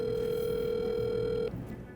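A steady electronic ringback tone on an outgoing phone call, loud and continuous, then cutting off abruptly partway through, leaving quieter line noise behind.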